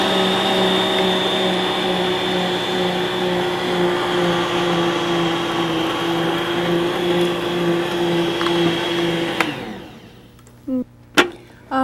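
An electric mixer with dough hooks works pie crust dough with a loud, steady motor whine that runs for several seconds, then shuts off, leaving a few light knocks and clatters.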